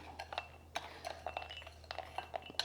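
Small nuts are dropped into a Magimix blender jar, producing a scatter of light, irregular clinks and taps against the hard container, some single and some in quick clusters, quiet and close with no talking.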